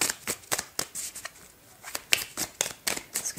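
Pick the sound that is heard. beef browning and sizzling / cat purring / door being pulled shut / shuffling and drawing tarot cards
shuffling and drawing tarot cards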